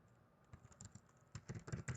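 Quick bursts of keystrokes on a computer keyboard, close and fairly quiet, a short pause then a faster run of clicky taps with no talking.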